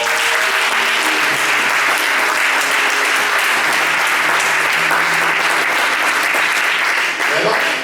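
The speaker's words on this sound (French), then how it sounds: "Est-ce qu'on peut acclamer le Seigneur?" A church congregation at a seminary session on consecration to God applauds to acclaim the Lord, with loud, sustained clapping and cheering voices in the background throughout.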